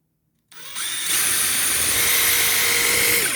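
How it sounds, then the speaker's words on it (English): A power drill whirs up after a brief silence and grinds steadily through a Cloud Wheel DIY donut part for a Meepo AWD Pro electric skateboard, loud and close, holding a constant high whine without pause. "now that I have the hole drilled"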